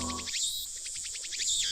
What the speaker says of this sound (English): where the cries of cicadas resound